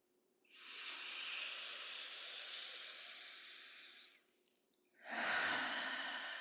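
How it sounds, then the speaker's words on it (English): A person doing breathwork lets out a long, breathy exhale lasting several seconds, then after a short pause a second forceful, hissing breath follows, close and clear with no talk. "and exhale"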